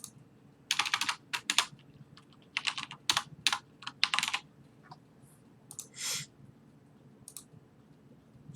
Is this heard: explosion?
no